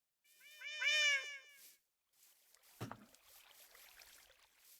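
A single drawn-out meow from a cat in Minecraft, clear and close, followed by a short sharp thump and faint rustling ambience.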